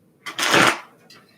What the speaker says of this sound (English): Let me shuffle these cards here.